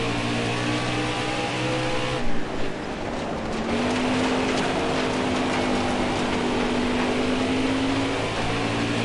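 A hot pink race car in a dirt series on a PS4 racing game revs hard, its engine whining loud and close, with the pitch climbing and holding through continuous acceleration.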